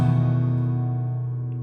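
Guitar rings out an open chord with one finger on the second fret of the A string, a single sustained strum fading slowly, close and steady with no talk.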